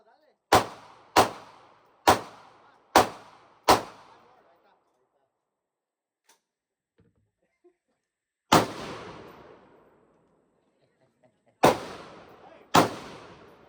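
A Glock 23 pistol fires at a shooting range: five quick sharp shots in a row, a pause, one more, then a closing pair, each loud and near with a short ringing decay.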